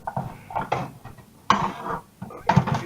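Small metal frying pan handled in a home kitchen while a pork burger lunch is prepared, giving a few scattered clanks and scrapes of cookware, close and fairly quiet, with no talk.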